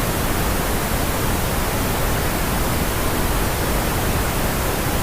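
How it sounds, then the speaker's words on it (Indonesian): Steady pink noise test signal from real-time analyzer software, a loud, uniform broadband hiss that runs unchanged throughout with no voices. "kita tekan tombol pink noise"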